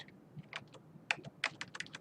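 Keystrokes on a computer keyboard while entering a formula in an Excel spreadsheet, a quick irregular run of distinct taps, some louder than others, close and alone over a faint room hum.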